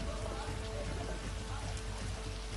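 Monsoon rain pours down in southern Gujarat, a dense continuous hiss of drops hitting surfaces, steady and fairly quiet throughout.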